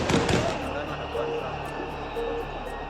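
Several sharp gunshots, warning shots fired by guards, crack in quick succession at the start, then a droning engine-like rumble and scattered voices carry on beneath.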